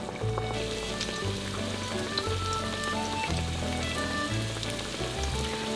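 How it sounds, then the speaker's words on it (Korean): Spoonfuls of zucchini batter frying in hot oil in a small egg pan, giving a loud, dense, continuous sizzle and crackle close up, with a low bubbling undertone. "아까 호박 반죽해 놓은 것을 한 스푼씩 이렇게 떠서 넣어"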